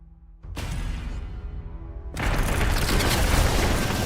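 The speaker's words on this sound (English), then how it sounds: "They're exploding the entire map on their own." Explosions boom across the battlefield in the strategy RPG Deep Fringe, a rumbling blast that swells after a short pause into a heavier, continuous roar.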